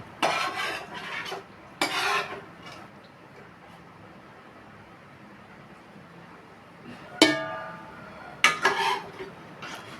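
Curry being added to chicken liver biryani in a pot: a few clanking metal-utensil scrapes and clatters against the pot, spaced apart with quiet gaps between, no talking.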